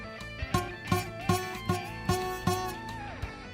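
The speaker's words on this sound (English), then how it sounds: "One of the problems you'll encounter on the bottom E string is a buzzy note" Low E string on a guitar played one note at a time in a steady rhythm, with a buzzy, rattling attack on each pluck. About eight or nine plucks, close and clear, with no talking.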